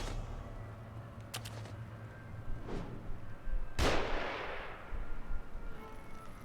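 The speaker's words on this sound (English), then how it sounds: "Who's shooting at me?" Gunshots ring out in the survival horror game The Evil Within, with a few sharp cracks followed by a heavy blast that rolls away into a long decaying tail over a low background rumble.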